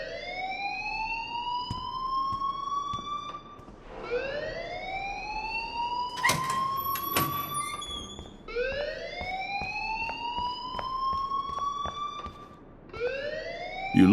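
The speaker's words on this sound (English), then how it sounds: "please turn off that alarm since that's your job" A rising electronic alarm wail in the video game Life Is Strange, sounding in repeated sweeps of about four seconds, loud and continuous, with a brief clatter of other noise partway through.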